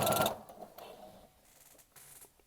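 A sewing machine stitches Japanese selvedge denim, opening with a loud close burst of mechanical whirring, then settling into softer, uneven stitching and clicks that come and go.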